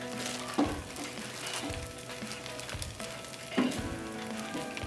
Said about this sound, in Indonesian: Kita masak hingga matang dagingnya.